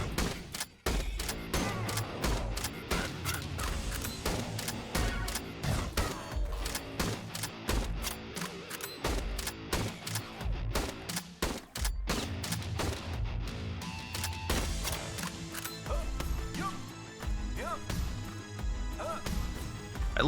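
Gunfire from weapons in the rhythm shooter BPM: Bullets Per Minute, sharp shots cracking in rapid, beat-driven bursts over loud game music, with occasional crashes and heavy impacts.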